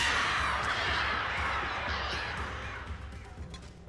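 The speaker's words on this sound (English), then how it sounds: "Hate those birds." Birds caw in the game Alan Wake Remastered, a steady rough flutter of calls over a dark ambient bed, fading slightly toward the end with no talk.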